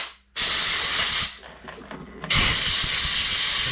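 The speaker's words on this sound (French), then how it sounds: "un petit coup de soufflette au milieu du moyeu pour sortir l'eau" Compressed air blower drying the centre of a wheel hub, blowing water out around the bearings: two long, loud, close bursts of hiss separated by a short quieter gap.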